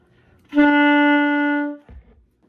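A lone saxophone plays a held B note, steady and full for just over a second, followed by a faint soft bump after it stops.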